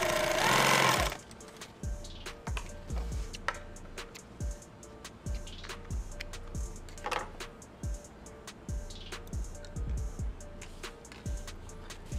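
A sewing machine needle stitches with a rapid mechanical rhythm of close, sharp ticks and thumps that stops and restarts in short bursts over about twelve seconds, after a brief loud noise at the start.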